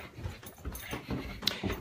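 A puppy whimpering and sniffing nearby, a few short soft whines and breathy snuffles over about two seconds, fairly quiet and close.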